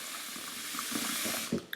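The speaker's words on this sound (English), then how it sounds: "you take a bowl, you fill it with the normal water, normal tap water" Normal tap water runs steadily from a faucet into a bowl, a continuous close rushing splash with small gurgles and a brief clunk near the end, no voices.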